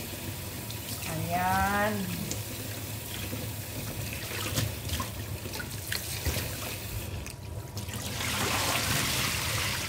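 Tap water runs steadily over eggplant being washed in a sink, a continuous close splashing hiss with handling clatter, and a person speaks briefly over the flow.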